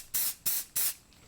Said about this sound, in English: I spray it afterward with an aerosol